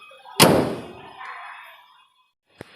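The engine hood of a 1991 Toyota Crown Royal Saloon slams shut with a single sharp, loud metallic thud that rings briefly, followed by a faint click a couple of seconds later.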